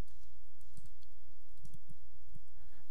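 Typing on a computer keyboard, a handful of light, irregular key clicks in small clusters over a steady quiet background hum, nearby and faint.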